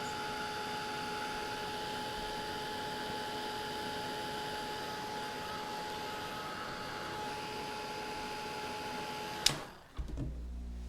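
A hair dryer blows steadily on wet paint during a decorative leaf painting session, a constant loud whirring hum that runs unbroken for about nine seconds before clicking off abruptly.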